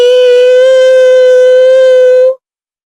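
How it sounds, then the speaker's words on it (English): A harsh, urgent double-toned siren blares from a computer terminal at a boarding-pass scan counter, one loud sustained electronic wail lasting about two seconds before cutting off abruptly into silence. "It was a harsh, urgent, double-toned siren that echoed from the computer terminal."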